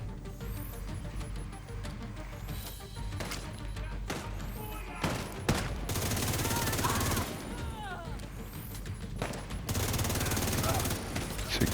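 Gunfire from The Division 2, with bursts of automatic fire and heavy shots booming on and off through a firefight during a Library of Congress mission, loud and continuous, with voices calling out over the din.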